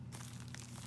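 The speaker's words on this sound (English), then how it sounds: "This is how I shuffle decks with one hand." A sleeved Yu-Gi-Oh! card deck shuffled one-handed, giving a quiet, brief, continuous crinkly rustle of plastic sleeves sliding together.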